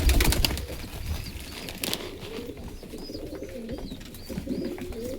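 Pigeons in a cage cooing close by, repeated low throaty coos over a rustling background, with a burst of wing flapping or scuffling near the start.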